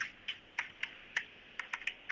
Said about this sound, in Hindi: तो इसको निकाल के पूरा टाइप करना है एड्रेस को।